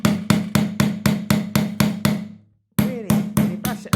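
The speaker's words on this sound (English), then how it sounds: "Then use a metalwork hammer and really bash this over cork and a rubber mat to absorb any vibrations" A metalwork hammer bashes a copper sheet resting on cork and a rubber mat, a copper disc for a wirework necklace. The loud, close blows come in a fast, even rhythm, stop briefly, then start again.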